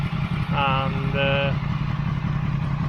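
A motorcycle engine idles steadily with a low, even rumble while excess ACF50 burns off the exhaust; someone talks briefly over the running engine.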